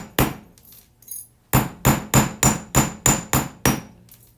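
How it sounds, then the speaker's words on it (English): An 8-ounce hammer flattens a small metal butterfly for jewelry, striking in a quick run of sharp, ringing metallic taps: a few scattered hits, then a steady burst of about eight evenly spaced blows, close and loud. "So you used the 8-ounce hammer for that, right?"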